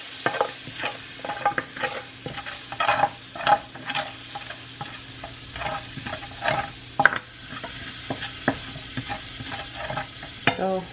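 A spoon scrapes and clatters in a pot as butter, pepper and onion are stirred together. Irregular knocks come over a soft sizzle of frying, close and fairly loud, with no talking.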